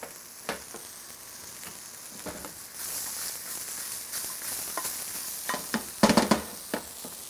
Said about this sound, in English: we're going to saute that until the apples are somewhat cooked